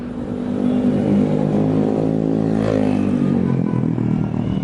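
Busy Jakarta street traffic with a steady engine rumble from cars and motorbikes, one vehicle swelling louder as it passes close by midway, continuous and fairly loud throughout.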